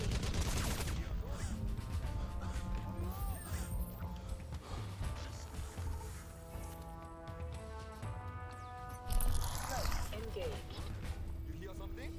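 Dense enemy gunfire rattles without pause in the shooter game Crysis Remastered, loud and continuous with bursts layered over rumbling game effects and music.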